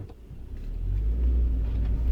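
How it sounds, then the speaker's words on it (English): Car with a short shifter driving through the streets of Warwick, engine rumbling low and close inside the cabin, the drone swelling slightly as it pulls away. "I'm just driving around the streets of Warwick here"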